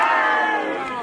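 Large crowd cheering and shouting at a public town event in Tuensang, Nagaland, a dense, loud, sustained roar of many voices across the whole moment.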